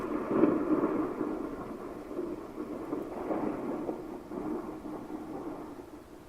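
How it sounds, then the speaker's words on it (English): Low, rolling thunder rumbles on continuously, broad and muffled, with a stronger swell near the start and no voices. "We need the thunder."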